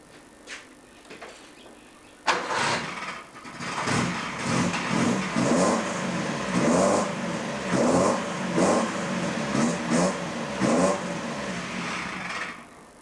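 A 1981 Subaru wagon, fitted with a modified Hilux rear diff and Airlocker, cranks and catches after a couple of seconds, then revs repeatedly in rising and falling surges before settling, heard up close.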